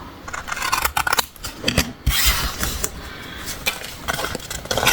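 Scissors snip through paper in a scrapbooking notepad-holder project, cutting at a bevel: a sequence of sharp, close crisp cuts and rustles of the sheet, loud and alone with no voices.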